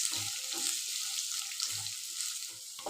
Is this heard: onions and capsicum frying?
yes